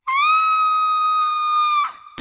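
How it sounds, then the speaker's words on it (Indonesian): A girl screams in fear, one long sustained high-pitched shriek that is loud and close, ending abruptly with a short click afterward. "Jiyeon pun berteriak ketakutan"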